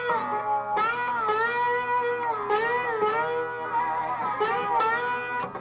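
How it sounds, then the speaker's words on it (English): Slide guitar note picked on the B string at the 12th fret with the strings left unmuted, ringing with wavering vibrato and extra string noise, several repeated plucks over a steady low hum. "if I just pick that note and I'm not muting any of the strings, it would sound like this"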